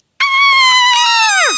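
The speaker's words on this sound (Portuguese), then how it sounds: "Eles ouviram um grito." A single loud, piercing scream cuts in abruptly and holds its pitch before sliding downward at the end, a close horror sound effect with no talking.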